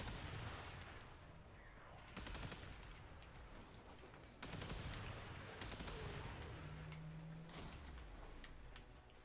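Rapid bursts from the Kuva Grattler arch gun in the sci-fi shooter Warframe: loud, close, crackling volleys that start abruptly at several points and run on as continuous chattering fire.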